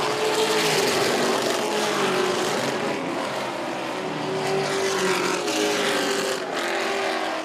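Race cars roar around the track at San Antonio Speedway, a loud, continuous engine drone with a steady whining pitch that shifts slightly as cars pass, filling the whole stretch.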